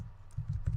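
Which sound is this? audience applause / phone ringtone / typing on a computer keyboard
typing on a computer keyboard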